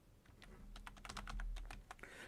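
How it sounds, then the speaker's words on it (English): Keys on a computer keyboard being typed in a quick burst of clicks as a user ID is entered on a website, close and fairly quiet over a low room hum. "I am just typing it over here."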